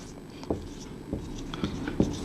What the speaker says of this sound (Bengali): যেমন আমি একটু লিখি